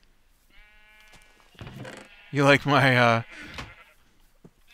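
Sheep in the Minecraft video game bleat loudly and close by, two drawn-out wavering calls in the middle, with someone speaking before and after.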